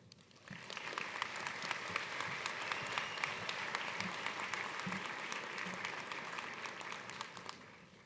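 Commencement audience applauding to welcome a speaker: a steady, full round of clapping from a large crowd that swells in, holds for several seconds and fades, heard at moderate distance with no talk.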